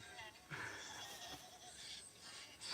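A woman's sex noises from a film, bleating and goat-like, in wavering cries that rise and fall over about three seconds against a busy background.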